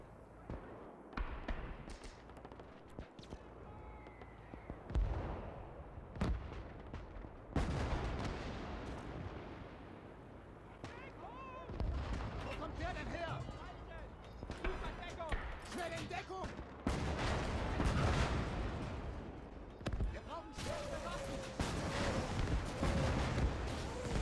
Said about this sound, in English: The Nebelwerfers are firing up close now.